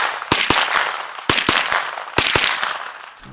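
Pistol shots at a shooting range from a roller-delayed blowback handgun: three sharp, loud reports spaced about a second apart, each followed by quicker secondary cracks and a decaying echo.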